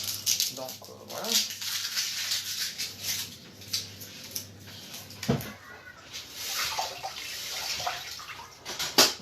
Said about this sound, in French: toujours rincer